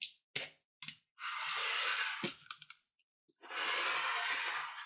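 A rotary cutter runs along a ruler through a fabric square, giving a few sharp clicks followed by two long, steady rasping cuts close by, separated by a brief pause.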